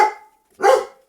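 A dog barks twice in a street, two short, loud, close woofs separated by a brief pause, with no one talking.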